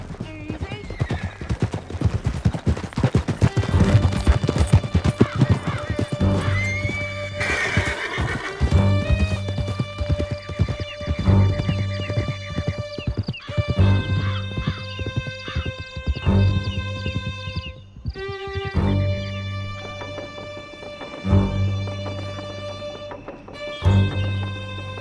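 Horses gallop through a Red Dead Redemption 2 canyon chase, with rapid hoofbeats, whinnies and scattered gunfire beneath a loud orchestral score, and voices shouting briefly over the riding.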